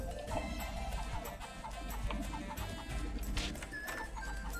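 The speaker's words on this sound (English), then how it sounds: "And I get to kick the chicken." Chicken clucking in the video game Radiata Stories after the bird is kicked, a busy run of short squawks and clucks layered over dense game music and ambience.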